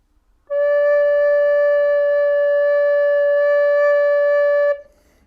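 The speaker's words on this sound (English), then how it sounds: "note D sounds like this" A recorder sounds a single sustained low D, steady and clear, with a soft onset and a clean release, lasting about four seconds alone with no talking.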